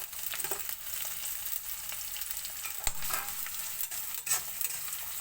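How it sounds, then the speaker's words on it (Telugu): Garlic, onions and chillies frying in a pan, a continuous crackling sizzle with occasional stirring scrapes and clinks, close and steady. "చూడండి, ఇది వేగుతున్నాయి. ఇది బాగా వేగాలి."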